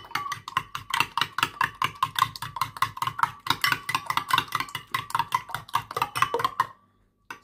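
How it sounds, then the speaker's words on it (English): Eggs beaten in a bowl with a fork or whisk for Nigerian peanuts, giving quick rhythmic clinking strokes, close and fairly loud, that run steadily before stopping abruptly near the end. "So I'll first of all beat the eggs."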